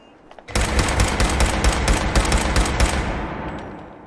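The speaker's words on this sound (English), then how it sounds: "if I equip this and show you how loud the weapons are, just to give you an idea" Rapid, loud gunfire from a pipe pistol in Fallout 4, a dense burst of shots starting abruptly and continuing for about three seconds before a decaying echo.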